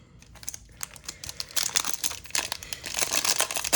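Foil wrapper of a 2023 WWE Select trading card pack crinkling and tearing as it is opened, close, sharp bursts of rustling that grow denser and louder, with no talking.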